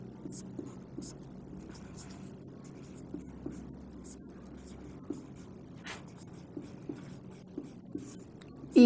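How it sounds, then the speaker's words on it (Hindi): Pen scratching across paper as a question is written out by hand during a Hindi lesson, a close, steady run of faint strokes and taps over a low room hum. "प्रश्न लिख देती हूँ उसको मैं"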